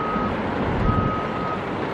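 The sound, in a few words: trucks and loaders reversing at Tropicana demolition site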